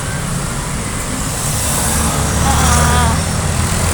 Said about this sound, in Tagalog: Ayan, traffic din dito.